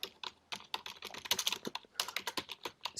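Typing on a computer keyboard, a quick run of light, close keystrokes in an uneven rhythm, soft and alone without talk.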